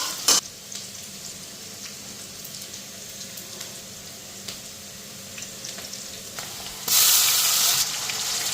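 Onion sizzling in a pan with ginger-garlic and green chilli paste for a chickpea curry, a steady frying hiss throughout with a few clinks, ending in a louder burst of sizzle near the close.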